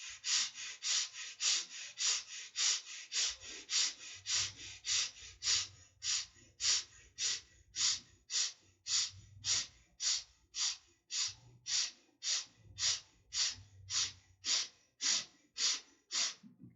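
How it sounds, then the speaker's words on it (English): Short, sharp breaths drawn through the nostrils in a steady rhythm, about two per second, repeated some thirty times, close and clear with a faint low hum underneath. "gently the short breath through the nostrils into the rib cage"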